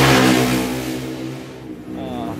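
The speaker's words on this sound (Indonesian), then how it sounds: "berisik juga ya, ada motor" A motorbike engine revs nearby, a loud, close whine that swells at the start, dips, then rises again, with no speech over it.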